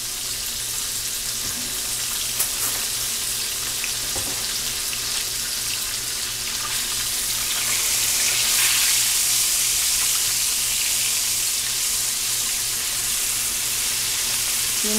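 Chicken fried steak frying in a pan for a Southern homestyle dinner, a steady loud sizzle that runs the whole time, with some watery hiss swelling midway.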